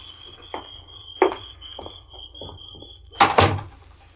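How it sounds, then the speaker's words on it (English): An unlocked house door is opened at close range, with a few soft knocks and shuffles followed by a louder latch-and-swing thump near the end, over a steady high insect-like whine. "I just want to know before I try to open the door"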